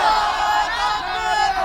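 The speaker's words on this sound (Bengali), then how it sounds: "আবার দেন তাকবীর।" A large crowd at an outdoor Islamic sermon gathering in Kaliakair roars the takbir chant in unison, a loud, sustained shout that fills the short stretch.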